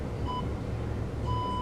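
A hangboard workout timer gives two short electronic beeps, a brief one and then a longer one about a second later, sounding clearly over a steady low room hum.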